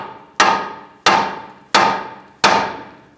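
A hammer strikes a tie rod end on a 2012-2017 Hyundai Accent to free a jammed jam nut: four sharp, ringing metallic blows at an even pace, each decaying quickly, close and loud with no talk.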